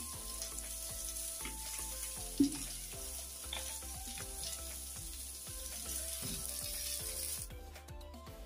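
Vegetables seasoned with turmeric and salt fry in a pan, a close, steady sizzle with crackles and occasional stirring clinks and scrapes throughout, with no speech.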